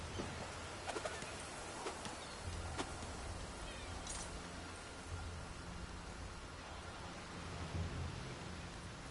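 Thunderstorm ambience in The Elder Scrolls Online: a steady wash of rain and rumbling low noise with a few sharp crackling strikes, and bird calls faintly mixed in.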